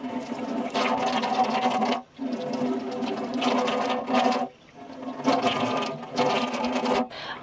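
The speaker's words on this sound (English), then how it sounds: "I'm just going to literally run them through under the tap with like lukewarm water" Lukewarm tap water runs steadily over houseplants held under a kitchen tap, a close, full splashing stream in three long bursts separated by brief pauses as the flow is moved or interrupted.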